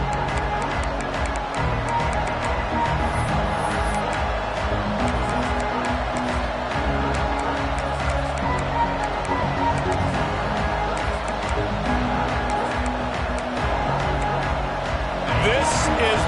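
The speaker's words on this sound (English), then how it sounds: "This crowd ready to make its presence known." A college football stadium crowd roars steadily at a Georgia kickoff, a broad continuous wash of noise under announcer commentary.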